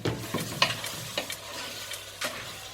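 Beef stew meat cooks in a pot with a soft continuous sizzle, broken by several scattered scrapes and clinks as it is stirred and checked.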